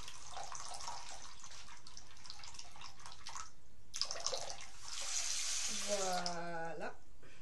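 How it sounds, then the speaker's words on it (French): Bath water drains from a tub, a soft continuous rushing and gurgling. Near the end a person speaks quietly close by. "c'est juste qu'il y a l'eau du bain qui se vide"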